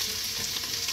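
Onions frying in a pan in a home kitchen in Dubai, a dense, steady sizzle and crackle that fills the short moment, loud and close with no voices.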